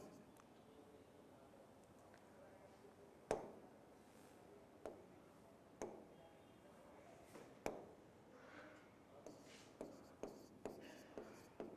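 Chalk or marker writing out a chemistry reaction on a classroom board, with sparse sharp taps and scratchy strokes spaced irregularly over a quiet room background.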